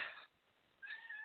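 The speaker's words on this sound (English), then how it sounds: "Oh, my cat says hello." A pet cat meows twice, a bright high call at the start and a longer one after a short pause, close and clear with no talk over it.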